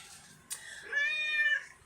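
A pet cat cries out with a short sharp sound, then gives one drawn-out, loud, wavering meow close by in a quiet room.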